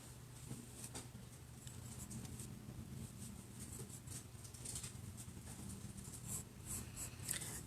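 Pen or pencil scratching on sketchbook paper while sunflowers are drawn on a teapot still life, soft close-up strokes in short irregular bursts, faint and steady throughout.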